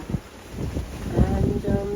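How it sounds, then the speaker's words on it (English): Wind at sea on a solo sailboat near dawn rumbles and buffets the microphone in uneven low gusts, with faint rushing water beneath and no voices. "And the wind has died back quite a bit."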